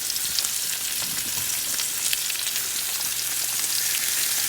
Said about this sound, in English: Let's melt more butter and continue adding it to it.